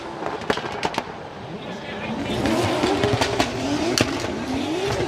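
Two drift cars compete at a Formula Drift Japan round, engines revving and wailing with rising pitch over sharp popping bangs and tire noise, loud and close under steady commentary.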